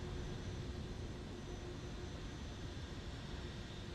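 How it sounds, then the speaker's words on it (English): A Lufthansa City airliner departs Manchester in MSFS 2024, its simulated engines giving a steady, dense roar that holds level throughout with no voices over it. "Got a Lufthansa City departing out."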